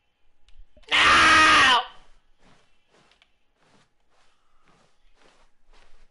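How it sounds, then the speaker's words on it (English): Stanley screams in The Stanley Parable, one loud strained yell lasting under a second, followed by faint scattered footsteps and quiet room noise. "Stanley began screaming."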